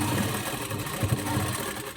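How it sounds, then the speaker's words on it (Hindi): Sewing machine running steadily as it stitches a straight seam along fabric for a simple one-cut kaftan with a kurta-style finish, a continuous close mechanical whir with faint rhythmic pulsing. "यहाँ पे एकदम सीधी आपको एक सिलाई लगा देनी है बराबर से"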